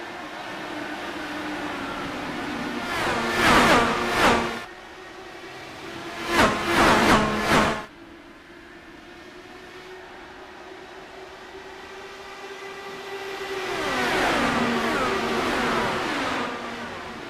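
Race car engines roar at the start of a stock car race at Charlotte in a sim racing game, two loud bursts of cars passing close, then a long whine of engines rising and fading farther off.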